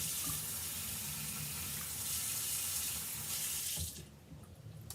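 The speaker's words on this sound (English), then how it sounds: "I actually just take this to the sink and run the color out with water." Water runs steadily from a sink tap as ink is rinsed out of a pen, a continuous hissing splash that cuts off abruptly near the end, leaving a quieter trickle.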